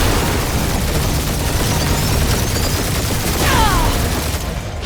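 Sustained heavy gunfire barrage with booming blasts from a sci-fi space battle in Marvel's Guardians of the Galaxy, a dense continuous roar of shots and explosions with brief sweeping laser-like streaks.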